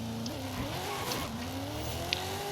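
A Ford De Luxe Coupe drag car in Forza Horizon 5 revs and launches. The engine note climbs through rising gear pulls, with a faint tire chirp, heard moderately loud with no talking.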